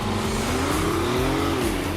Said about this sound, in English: shift into sport mode, and the gas engine kicks in immediately, ready for action